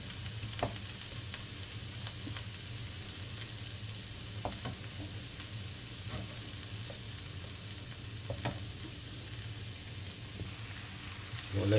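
Ground-meat filling for shepherd's pie sizzles quietly in a pan on the stove, a soft continuous hiss broken by occasional crackles and small pops.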